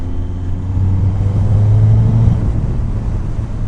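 A motorcycle running after removal of its KLEEN air/PAIRS system, with a clean air mod and main jet needle change, drones steadily and loud, engine tone climbing and settling throughout with no talk.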